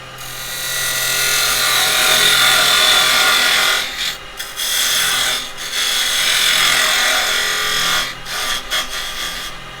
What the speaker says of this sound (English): I'm going to just get my parting tool and go into my bottom